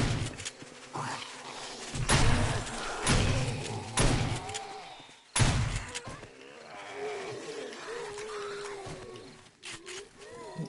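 Shotgun blasts in the survival video game 7 Days to Die, several loud booming shots spaced a second or two apart, mixed with game creature growls and someone talking through the action.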